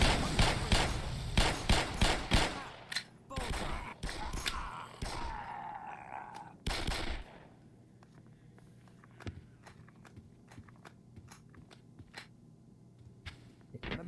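Rapid gunfire from the Black Mesa video game, dense bursts of loud shots at first, then sparser scattered single shots over a quieter background.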